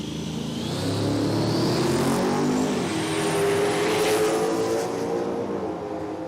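A small-tyre class drag race car on street tyres accelerates hard down an Australian eighth-mile strip, its engine roaring loud and rising in pitch through the run, with almost no talk over it.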